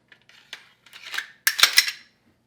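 A pistol slide is slid along the frame rails and seated during reassembly after a field strip: soft metallic scraping, then a cluster of sharp, close metal clicks and snaps, with no talking.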